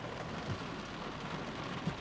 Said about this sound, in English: You hear that rain?